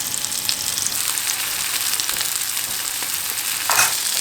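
Sesame-coated keto chicken tenders frying in a pan, a steady close sizzle and crackle with a few faint clinks and a brief louder burst near the end, no talk.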